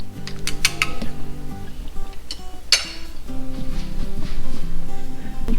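Pork miso soup being stirred in a pot with dashi powder added, giving repeated light clinks and scrapes of a utensil against the pot, close up and steady, with no talking.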